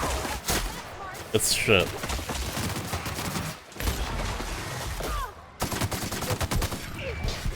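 Shotgun blasts from The Outer Worlds video game crack out in a quick, loud volley of repeated shots, with a brief spoken remark over the gunfire.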